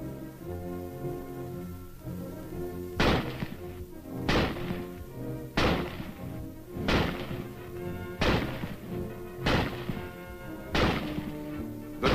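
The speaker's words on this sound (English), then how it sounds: "The rifle is first demonstrated being fired from a prone position." Springfield rifle fired from a prone position, eight-round clip loaded: six sharp, evenly spaced loud shots roughly a second and a quarter apart, each with a short decay, over a steady musical background.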